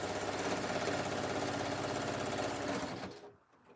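A sewing machine runs a fast zigzag stitch, a dense, rapid mechanical chatter heard close and steady for about three seconds before stopping abruptly.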